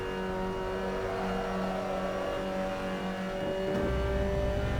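A race car engine in Assetto Corsa drones at a steady pitch with a rough, uneven tone, then shifts to a deeper rumble near the end, with no voices.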